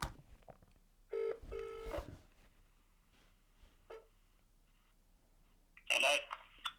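Telephone ringing out on an outgoing call, with a couple of bursts of ring tone, isolated short sounds and a final loud tone before the line connects.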